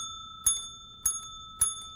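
A small bell on an infant CPR training manikin, pressed three times at an even pace, each press a close bright metallic ding that rings briefly in a quiet room.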